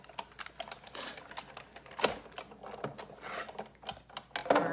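An embossing folder holding card stock for a trifold card is cranked through a die-cutting machine, producing a run of close, uneven clicks, ratcheting knocks and scraping rustles, with a louder clack midway and another near the end.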